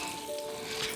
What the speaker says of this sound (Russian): И она жарится одновременно со всех сторон